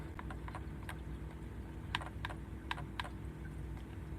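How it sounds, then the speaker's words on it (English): Someone types on a computer keyboard, scattered quiet key clicks in small bursts with pauses, over a low steady hum. "Now, after we type this out"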